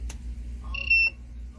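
A soldering station's sleep timer alarm gives a short, bright electronic beep, with a brief clicky tone before it, over a steady low hum near the workbench.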